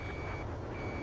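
Trucks backing up in Ace Combat 7 give off a steady, loud high-pitched reversing beep over a low broadband engine rumble, with the beep fading briefly mid-way before returning.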